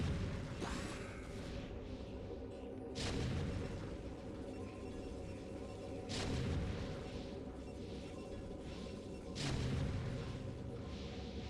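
Siege tanks firing in StarCraft, with three or four heavy booming blasts spaced a few seconds apart over a low, busy battle rumble at moderate loudness.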